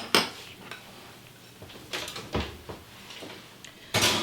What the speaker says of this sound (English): So I'm going to pop this into the oven